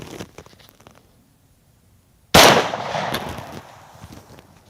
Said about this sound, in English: I'm going to fire it into the ballistics gel